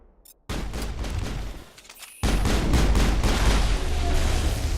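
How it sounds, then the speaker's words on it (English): Shotgun fire in the Mass Effect video game during a firefight: loud, dense bursts of blasts, a brief lull, then an even heavier sustained barrage of gunfire and booms, close and continuous. "Maybe I shouldn't do long range with the shotgun."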